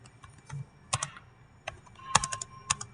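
Computer keyboard typing during a programming lesson, bursts of clicky keystrokes in short clusters, moderately close with a faint hum underneath and no talking.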